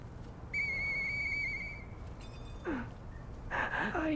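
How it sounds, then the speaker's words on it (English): A steady high whistle tone in the video game Lies of P sounds for about a second and a half, followed by a brief rising whistle and a short chirping whistle near the end, over low ambient game noise. "I know that whistle"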